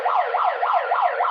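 A loud, continuous electronic horn sounding a steady rising and falling wail, like a siren, signalling that a timer has run out. It plays alone without talk.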